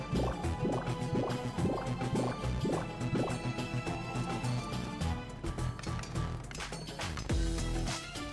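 Water in the video game Shantae and the Pirate's Curse, a steady liquid filling and gurgling sound under busy, rhythmic game music that runs throughout.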